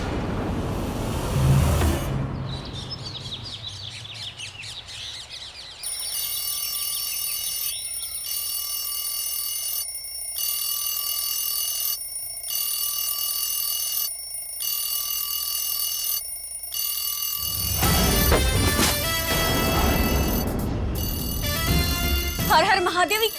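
A morning alarm clock in a home rings with a steady, repeating electronic tone broken by brief regular pauses, with loud voices and commotion before and after.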